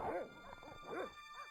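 Dogs barking and yipping in the video game Broken Sword: Shadow of the Templar, several short, fairly close barks in quick succession with a whimpering edge.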